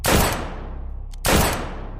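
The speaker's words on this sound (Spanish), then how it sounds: "apuntó y apretó el gatillo" Two loud rifle gunshots about a second apart, each with a sharp crack and a long echoing rumble trailing off.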